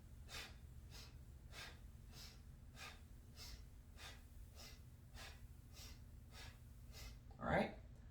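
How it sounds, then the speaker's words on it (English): Rhythmic breath cycles during a Kundalini yoga breathing exercise, about a dozen even, evenly spaced inhale-exhale pulses over a low steady hum, ending with one louder sharp breath. "So we're inhaling, exhaling, inhaling, exhaling, inhaling, exhaling"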